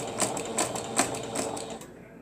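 A sewing machine back stitches in quick bursts of rapid mechanical clatter, close and fairly loud, then runs down and stops near the end.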